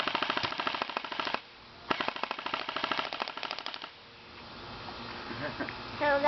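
An airsoft gun shooting at a pop can, with two rapid bursts of sharp, closely spaced snapping shots separated by a brief pause, followed by quieter background noise and movement.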